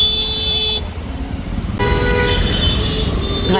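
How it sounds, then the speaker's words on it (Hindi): Busy street traffic runs loud and close, with car and vehicle horns tooting in repeated, overlapping honks over a steady engine rumble. One brief dip in the noise comes partway through, and faint voices sit under the din. "ट्रैफिक देखो,"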